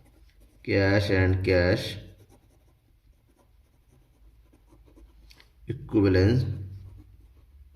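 Pen scratching on paper during a Class 12 accounting lesson on cash flow statements. Faint writing strokes fill the pause between two stretches of someone talking.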